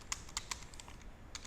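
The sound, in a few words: typing on a computer keyboard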